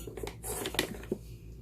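A plastic ink pad lid taps against a Stampin' Up! StazOn ink pad, giving a few sharp, close clicks at irregular intervals, with no one talking.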